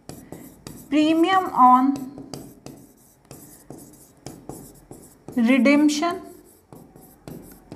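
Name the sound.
pen writing journal entry on paper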